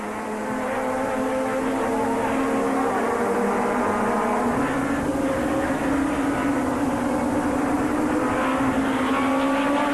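Touring race cars race at the Zolder circuit in a 2001 European Super Touring Championship round, a continuous loud engine roar with pitch slowly rising and shifting as cars pass, no voices.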